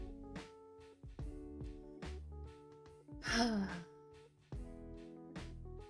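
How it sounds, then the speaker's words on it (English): Deep breathing: one loud, breathy exhale rises for about half a second midway through, over steady background music. "Okay, that's enough breathing, I think"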